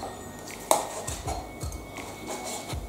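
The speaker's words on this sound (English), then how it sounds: "let's slice this beautiful steak" A knife slices through a cooked steak on a board for a steak sandwich: a sharp metallic clink, then a run of soft, regular cutting strokes with dull thuds, close and quiet.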